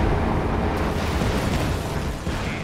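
A white phosphorus shell explodes in Company of Heroes 2, a loud, dense roar of burning and crackling that holds at nearly full strength from start to end.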